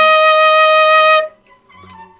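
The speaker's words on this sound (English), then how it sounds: "E flat goes like this on the flute." A flute sounds a sustained E flat, clear and steady at close range for just over a second before cutting off, leaving faint room noise.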